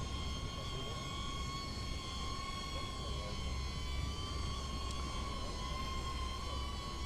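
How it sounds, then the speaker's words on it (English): A small camera drone flies close by, following along with a steady, high-pitched whirring whine from its propellers that holds even for several seconds against faint outdoor background noise. "we got the drone"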